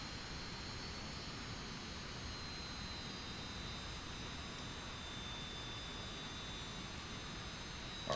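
A video game airplane's engine drones steadily as the aircraft lands and taxis to park, a continuous even roar with a faint high whine running throughout.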